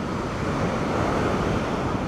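Ocean surf rolls onto a California beach in a continuous broadband roar, steady and close, with wind buffeting the microphone throughout and no voices.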